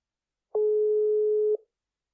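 A single steady telephone call tone sounds while dialing a guest, one clean electronic beep lasting about a second, clear and alone against silence.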